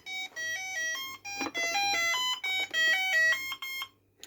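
A CGL Puck Muncher handheld electronic game plays its start-up tune, a bright chain of beeping electronic notes in a quick melody lasting a few seconds, close and clear with no talking.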